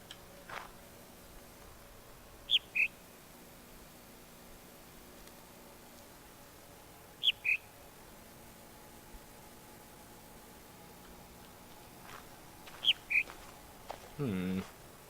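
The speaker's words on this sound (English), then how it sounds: "Hello, bird." Bird calls in the video game The Witness: three brief pairs of high chirps spaced several seconds apart over a faint hiss of outdoor ambience, followed by a short rustling noise at the end.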